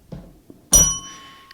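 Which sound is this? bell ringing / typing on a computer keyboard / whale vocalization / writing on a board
bell ringing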